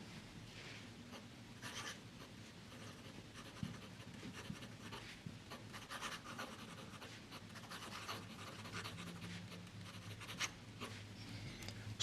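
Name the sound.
fountain pen writing with Diamine Blue Black ink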